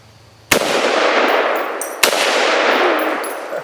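Two loud, close gunshots at target practice, each striking a pumpkin and then a steel plate with a sharp metallic clang that rings out and fades slowly.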